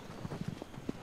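Horse hooves galloping across open ground in the video game Shadow of the Colossus, a quick uneven clip-clop of several soft thuds at moderate volume, heard alone without talk.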